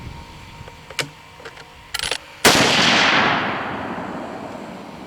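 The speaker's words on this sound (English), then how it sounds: "Shooting back at the same target again, but now we're hitting right there where we should be." A 30-06 rifle shot at a target, with a few mechanical clicks and rattles, then one loud close blast whose rumbling echo fades over a couple of seconds, no speech.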